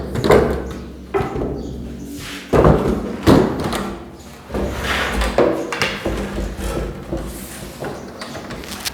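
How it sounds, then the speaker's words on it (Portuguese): A wooden door is set back into its frame, producing several loud, separate thuds and knocks spread across the clip, with scraping and shifting in between. "Agora é só colocar a porta novamente de volta."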